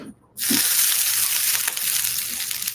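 Water hitting hot frying oil in a pan, bursting into a loud, steady sizzle after a brief quiet moment, close up and continuing throughout with no talking.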